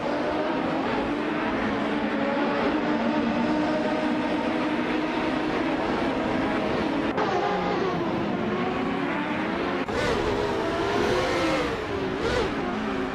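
1995 IndyCar Lola T9500 race cars scream around a tight circuit in a racing video game, engines droning and shifting pitch continuously as they lap, loud and steady with no talk.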